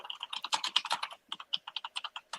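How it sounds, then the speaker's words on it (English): Rapid keyboard typing, a quick run of crisp clicks in uneven bursts with brief pauses, close and fairly quiet with no voices. "There goes that typing again."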